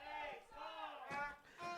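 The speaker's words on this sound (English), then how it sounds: "Our resident mummy getting the crowd chanting here with the We Are Ehtar chants" Football crowd at an Ehtar Belleville FC match chanting "We Are Ehtar" in rising and falling voiced waves, loud and sustained over about two seconds with swells near the end.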